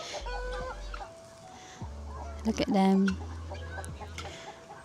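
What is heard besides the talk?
chickens clucking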